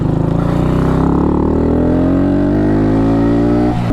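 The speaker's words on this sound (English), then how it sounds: "We can do a quick run up and down this road with the clutch adjusted." A car with a freshly adjusted clutch accelerates hard along a road in Morocco's Todra Gorge, the engine loud and close, its pitch rising steadily through the gear as the revs build, with no talking.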